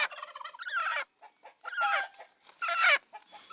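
An injured farmyard chicken hurt in a dog attack clucks and squawks in agitated, irregular bursts with short pauses between them, close and moderately loud.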